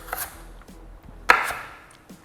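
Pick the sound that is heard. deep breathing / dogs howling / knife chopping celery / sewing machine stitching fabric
knife chopping celery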